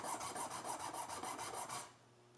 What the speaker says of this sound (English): I'm going to go in the middle just to make sure I'm keeping the nut flat against the file.